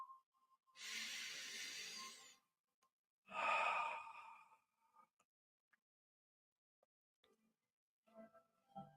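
Slow, deep breathing during meditation: two long, soft breaths, a drawn-out inhale then a steady exhale, heard close and quiet in near silence, followed by a few faint small sounds.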